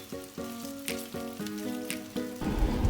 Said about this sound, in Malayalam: ബീഫ് ഒരു വിധം നന്നായി ഫ്രൈ ചെയ്തിട്ടുണ്ടാകും.